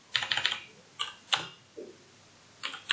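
Quick bursts of computer keyboard typing while entering code, close crisp key clicks in short irregular clusters with brief pauses between them, alone in a quiet room.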